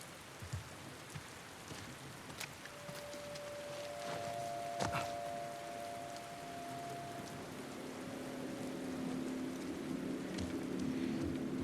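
A boat engine hums steadily in The Last of Us Part II, with a low tonal drone rising out of heavy, constant rain-like wash and splashing water for the whole stretch.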